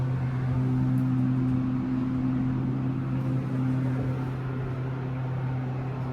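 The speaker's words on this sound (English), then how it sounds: "This is the elevator at Dave & Buster's, Belden Village Mall." A ThyssenKrupp hydraulic elevator at Dave & Buster's in Belden Village Mall runs with a steady, loud, low motor hum that holds evenly throughout with no pauses.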